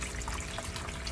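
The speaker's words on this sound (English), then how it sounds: "dump out 10 gallons of water" Water pours from an opened valve into empty totes as 10 gallons drain from a fish setup, a continuous, close, full gushing rush with no pauses.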